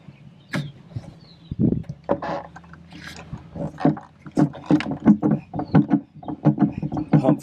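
Manual bilge pump on a sailboat, worked by hand with its handle at the helm, giving a run of rhythmic knocking, squeaking strokes that grow steadier and louder toward the end, close by.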